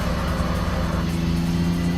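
A car engine in the racing game TXR Zero drops a gear, its steady loud drone holding a strong low hum with a slight pitch rise near the end, heard alone.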